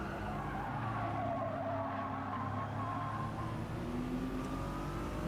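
A race car in Gran Turismo 7 slides wide, its tires squealing in long wavering whines over a steady engine drone, with other cars audible around it throughout.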